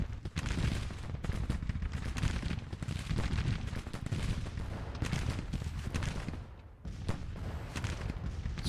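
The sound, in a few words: gunfire in a Civil War video game battle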